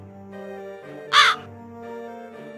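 One short, loud crow caw cuts in midway over soft sustained background music.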